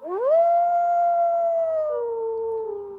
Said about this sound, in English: That was a beautiful howl right there.